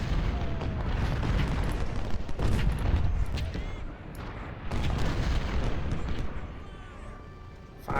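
Artillery fire in the Civil War game Ultimate General: Civil War, with repeated deep booms and rumbling blasts that overlap into a dense, continuous barrage.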